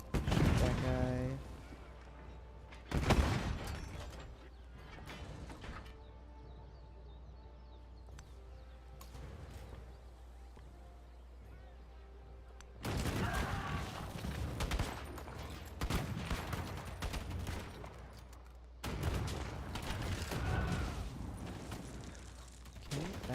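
Units firing in the Civilization 7 strategy game, a burst of gunfire near the start and a few more scattered volleys, with game music and low hum filling the gaps between them.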